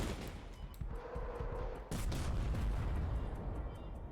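Dense gunfire and artillery-like booms from the World War II card game KARDS, a continuous rattling barrage with a louder burst of blasts midway, loud and alone without talk.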